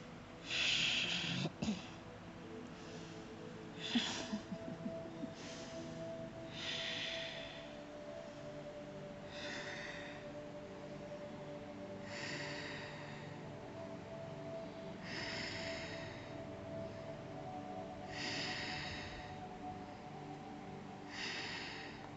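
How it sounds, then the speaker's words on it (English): Slow, deep breaths during a yoga forward fold, soft airy inhales and exhales repeating every couple of seconds, close and quiet, with a faint tone beneath and no talking. "And breathe."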